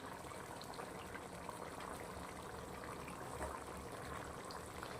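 Mushroom and cauliflower masala simmers in a pan, giving a steady, soft bubbling and sizzling hiss that stays even throughout with no voices.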